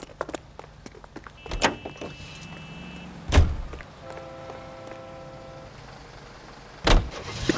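Car door and a car driving off in the video game L.A. Noire: sharp door thumps land at three points, with soft engine and motor hum between them.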